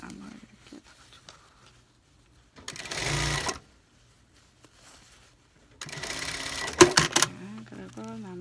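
Sewing machine stitching a wool dress that is being let out, two short bursts of rapid mechanical whirring separated by quiet pauses, with a person talking briefly near the end.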